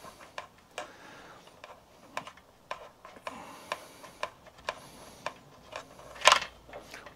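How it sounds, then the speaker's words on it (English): A spark plug spanner turning and loosening the spark plug on a two-stroke trimmer, a run of quiet metallic clicks and ratchet-like ticks at a steady pace, close by, ending in a brighter clink. "We're now going to remove the spark plug."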